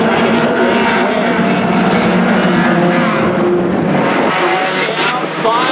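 Race cars roaring around an oval track during a Hornet class race, a loud, continuous engine drone with rising and falling pitch as the pack passes, dense and close throughout.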